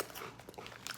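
Wise onion ring snacks being chewed, a close, quiet crunching with crisp bursts over about a second and no talk.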